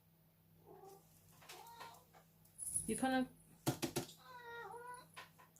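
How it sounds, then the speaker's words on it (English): A cat named Shadow meows several times nearby, drawn-out and wavering calls with one louder squawk among them, while a person speaks briefly. "oh look, a cat's just appeared."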